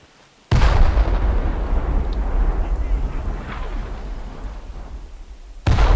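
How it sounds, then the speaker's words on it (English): Artillery rounds land in a video game with a sudden heavy blast that swells into a long, loud rumbling roar, then a second sharp impact cuts in near the end. No one speaks. "Okay, the first rounds are about to land."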